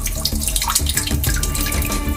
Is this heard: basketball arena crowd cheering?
no